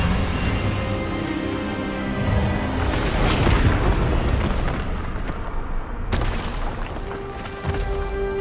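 A booming magical spell blast from the Hogwarts Legacy video game, a loud rumbling burst with crackling energy and a sharp crack near the end, mixed with cutscene sound effects.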